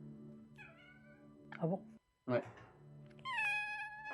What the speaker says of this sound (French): C'est depuis Ouais. quelques mois avec le chat qui miaule grâce au tadam.